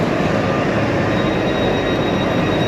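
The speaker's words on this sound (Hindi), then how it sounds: "ये ग्रीन वाली ट्रेन है" Green metro train at a station in Qatar, a loud, steady rumble and roar running throughout with no break.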